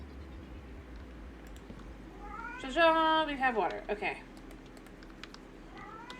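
A house cat meows close by, one drawn-out, rising-and-falling call followed by a few shorter mews, mixed in with a person talking and faint keyboard clicks.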